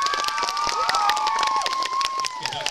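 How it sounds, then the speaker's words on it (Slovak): A crowd of children cheers and applauds at a parasport event in Tuchyňa. Dense clapping runs under shouting and a whistling tone. "Deti, veľký potlesk poprosíme!"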